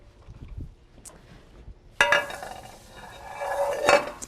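A pan is pulled out with a sudden clatter of pots and pans clinking and rattling in a home kitchen, followed by a few more metallic knocks after a quieter stretch of faint handling noise.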